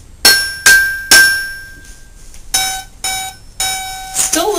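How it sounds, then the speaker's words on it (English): A G note struck repeatedly on a xylophone as a tuning reference for a pentatonic lyre harp: about six bright, ringing metallic strikes with quick decays, close and clear, with no talking. "the G on the xylophone sounds like this."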